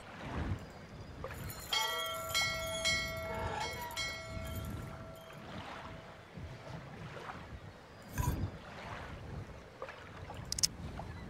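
A bell rung in the video game Syberia, struck once with a sustained ringing tone that slowly fades over ambient water and wind, with a few faint knocks afterward.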